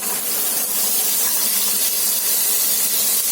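Artichokes laid into a pan of hot oil set off a loud, dense, continuous sizzle, a bright steady hiss with no pauses.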